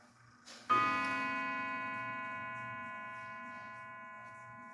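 A clock bought at auction strikes one rich, ringing chime tone that sustains and slowly decays, heard near and alone over faint background hum.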